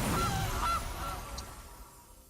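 A game sound effect of a goose honking when a Goose card is picked in a digital card game, a couple of nasal honks that fade out over a soft background, with no talking.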